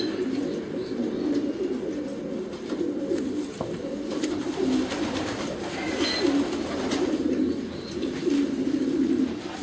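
Racing pigeons coo steadily in a loft, several low, throaty rolling calls overlapping one another at close range against a busy background of shuffling and faint chirps.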